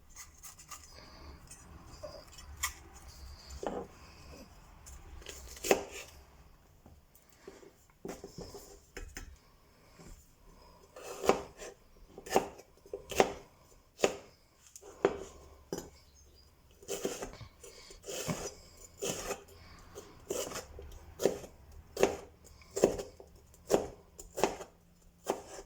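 A knife chops red pepper on a cutting board in sharp, irregular knocks that speed up into quick runs of taps, close and clear with no voices.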